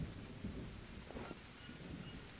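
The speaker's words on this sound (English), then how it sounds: "Oh, now it starts to rain." Rain falls steadily in the survival video game Green Hell, a soft, even hiss of drops with a faint low rumble of thunder underneath, at a low level with no talk.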